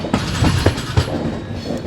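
A passenger train on an Indian line rolls from a bypass siding onto the main line, wheels thudding over rail joints and points in an uneven rhythm, loud and close with a steady rumble underneath.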